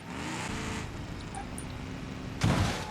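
A car clips another car's fender in BeamNG.drive, with a sudden sharp crunch near the end of a short stretch of steady engine and road noise.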